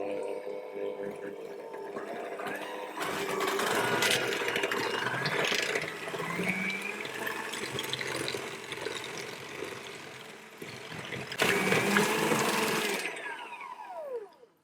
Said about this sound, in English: I'm going to whisk those together until they're fully combined